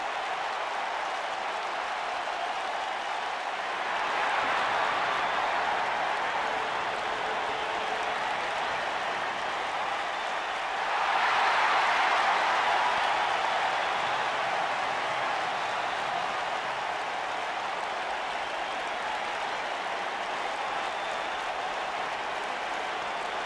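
Steady roar of a large arena crowd cheering in a WWE wrestling video game, with two louder swells of applause and cheers rising midway, continuous and distant-sounding.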